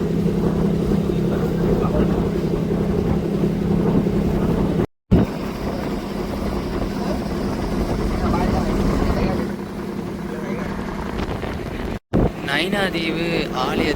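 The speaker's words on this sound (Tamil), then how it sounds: "போட் ஒன்று வந்து கொண்டிருக்கு எங்களை நோக்கி" A motorboat approaching across the water near Nainativu island, its steady engine drone mixed with wind rush on the microphone, continuous and fairly loud with short dropouts, and people talking over it.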